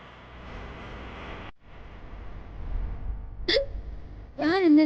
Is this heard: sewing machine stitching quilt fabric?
no